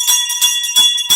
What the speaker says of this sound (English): Bring the bell for Chanel